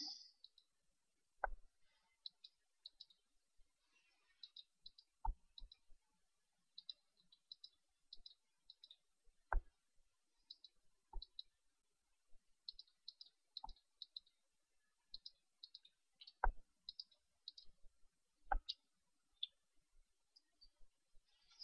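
Quiet computer mouse clicks come in scattered singles and rapid clusters over a long, otherwise silent stretch of Minecraft Skyblock play, with occasional faint low thumps.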